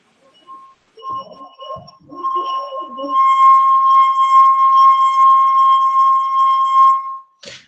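A wet fingertip circles the rim of a glass wine glass and draws out a pure, steady singing tone that swells and holds for about four seconds, after a few faint squeaks and rubbing noises at the start.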